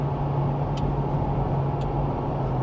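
A flood-damaged police car with an automatic transmission drives along, its engine humming steadily with a constant low drone and faint brief shifts, no one talking.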